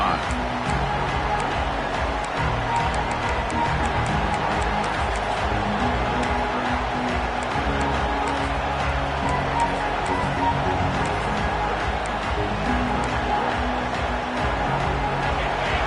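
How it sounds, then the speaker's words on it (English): A large American football stadium crowd roaring continuously, dense and sustained cheering with scattered shouts, loud and steady throughout. "this crowd is fired up. Listen to this noise here."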